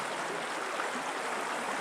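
A cold mountain stream gurgles in a steady, even wash of flowing water, close and continuous. No other sounds or voices are heard.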